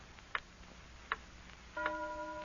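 Clock ticking on an old radio drama broadcast, a few sharp, evenly spaced ticks about three-quarters of a second apart, fairly quiet and alone, with a steady tone coming in near the end.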